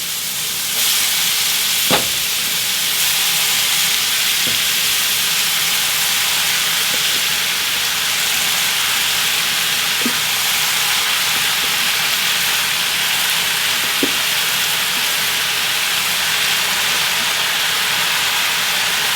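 Loud, dense sizzle of mushrooms and garlic frying in a pan for a vegan lasagna, a continuous hiss held close throughout, with a few faint clicks of stirring and no talking.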